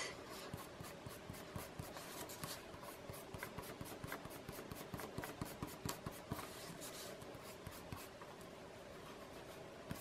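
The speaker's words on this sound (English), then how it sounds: "I want to erase my guidelines" Pencil guidelines rubbed away with an eraser, a steady close scratchy rubbing with quick repeated strokes running throughout, no voices.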